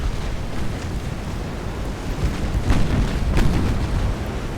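Torpedo hits explode against ships in the naval battle game Ultimate Admiral Dreadnoughts, a continuous rumbling, surf-like roar with a couple of soft muffled booms rising from the wash.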